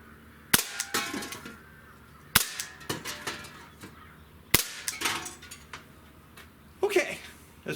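A Gamo PT-80 air pistol fires pellets double action at a row of targets: three loud, sharp cracks about two seconds apart, each followed by scattered clattering hits, with softer clicks between them.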